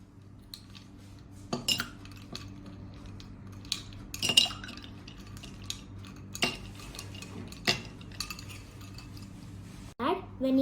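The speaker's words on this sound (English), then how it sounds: "Now add ice cubes." Ice cubes drop one by one into a glass of milk for homemade iced coffee, giving several sharp, separate clinks spaced a second or two apart in a quiet kitchen, with a brief voice near the end.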